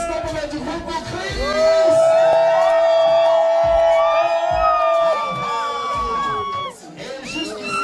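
Loud, close crowd cheering and yelling at a baptism and first communion party, building to a sustained roar of whoops and high shouts before easing, with some talk mixed in.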